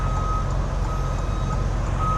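A semi truck backs a trailer into a tight spot, its reversing beeper sounding in a steady repeating tone over a loud, constant diesel rumble close by.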